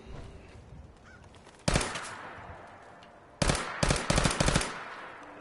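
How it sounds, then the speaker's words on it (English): Birds honk and squawk in a PS4 video game over sharp bursts of rapid gunfire, loud close volleys breaking in twice over a quieter background. "Oh, birds."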